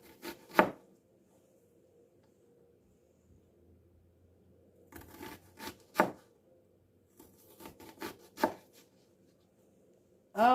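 A stout onion being chopped on a board, several sharp knife strikes in uneven bursts separated by quiet pauses, close and fairly faint.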